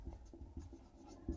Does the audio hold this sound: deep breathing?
no